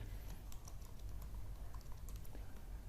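Keys click on a computer keyboard as a file name is typed, a faint, steady patter of light taps over low background hum, with no voice.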